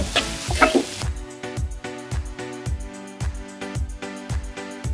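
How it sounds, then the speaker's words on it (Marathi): Chopped onion is stirred into a hot spiced tempering of garlic, green chili, asafoetida and curry leaves for an eggplant chutney, sizzling steadily with regular spoon scrapes against the pan, close up and without talk. "तर कांदा छानपैकी ह्या फोडणीमध्ये फ्राय करून घेऊया"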